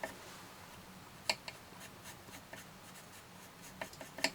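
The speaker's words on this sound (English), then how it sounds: "I'm just adding some colour to those leaves" A pencil scratches and rubs steadily across paper while leaves on a card-making die project are coloured in, soft continuous strokes with a few sharper ticks, close and quiet, no talking.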